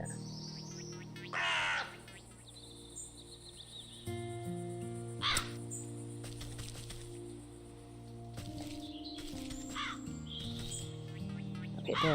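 A crow in the video game Wytchwood gives a single loud caw early on, set against a quiet, layered game soundscape of soft tonal music, chirps and occasional sharp cracks.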